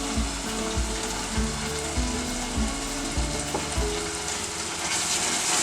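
Raw ground coconut masala paste sizzles in a curry pan for a Malvani fish curry, a steady loud frying hiss with a rhythmic clanking thump of stirring or a stove running underneath throughout, no talk.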